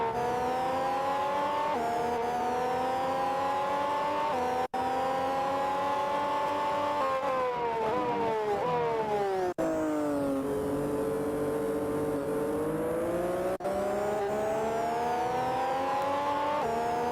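Formula 1 race car engines from the video game Grand Prix 2 at the Australian Grand Prix, whining loudly and continuously as they rise and fall through gear changes, with a few brief cuts and no talk.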